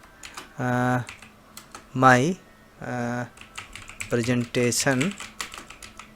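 Light clicks of computer keyboard keys typing text into Microsoft Word 2007, heard faintly beneath someone speaking in Hindi.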